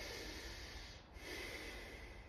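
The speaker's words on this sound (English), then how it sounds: "We're going to do 6 breaths through our nose" A slow breath drawn in through the nose during a breathing exercise, soft and steady against faint background hiss, with no talking.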